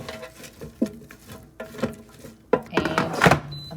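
Cut-up pork and squash are stirred together in the basket of a Sakuchi air fryer. The mixing makes close, irregular scrapes, soft pattering and light clanks, building to a busier clatter near the end.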